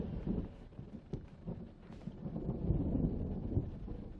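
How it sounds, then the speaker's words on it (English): Rumbling, dense thunderstorm ambience from the video game Alan Wake Remastered: a continuous low roar with swelling rolls and a few sharper cracks, fairly loud and steady, no voices. "There's a storm coming. Oh, what a storm."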